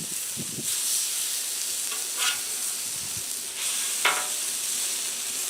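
Honey-lime pork chops just flipped and frying in oil in a pan, a constant bright sizzle with a few soft scrapes and shifts as the meat settles.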